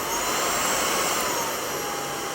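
A DSORUPA cordless sweeper runs at maximum power, giving a steady, loud, close whirring roar with a high-pitched motor whine and an airy rush, holding constant throughout without any talk.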